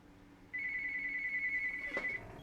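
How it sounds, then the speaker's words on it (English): A mobile phone rings in a quiet room with a steady, bright electronic tone. It sustains for about a second and a half over low background hum, with a faint click near its end. "just my phone's ringing"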